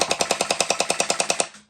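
A Nerf Pro Gelfire MrBeast Edition gel blaster fires on full auto, about fourteen sharp, evenly spaced shots in a quick burst, close and loud, then a brief mechanical wind-down.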